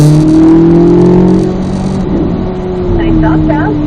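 A car accelerating on a race track during a driving session, a loud close engine drone whose pitch rises and then settles, with a voice talking over it.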